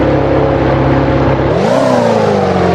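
A simulated 2009 Ferrari F60 Formula 1 car in Assetto Corsa drones loudly and steadily, then its engine note jumps abruptly in pitch about halfway through as a paddle gear shift lands, and it keeps revving high. No voices.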